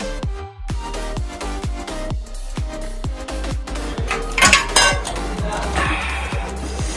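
Paneer going into a simmering curry in a pan, with a steady run of close metallic clinks and taps against the pan over a soft bubbling sizzle, and no one speaking.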